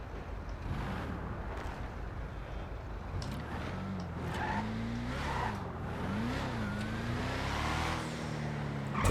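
An upgraded Benny's custom car in GTA Online drives along with its engine note rising and falling through revs and gear changes, a close, steady growl with occasional tire noise and no talking.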